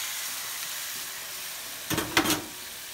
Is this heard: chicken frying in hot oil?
yes